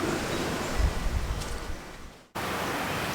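Gusty wind roaring outdoors at a garden site where compost is being spread and beds tilled, a loud broadband rush that swells and then abruptly cuts out before resuming.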